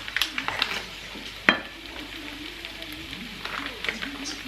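Shredded cabbage and corned beef sizzle in a frying pan over medium heat with black pepper added, a crackling fry with stirring scrapes and one sharp utensil knock against the pan, under occasional talk.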